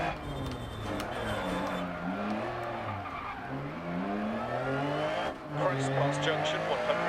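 A rally car in the DiRT Rally video game, its engine rising and falling through gear changes while tires skid and squeal on a loose stage, loud and continuous, with a co-driver's voice calling notes over it.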